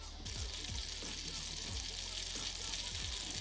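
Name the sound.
butter sizzling in hot frying pan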